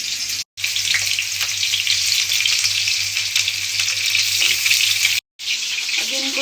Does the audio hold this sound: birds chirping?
no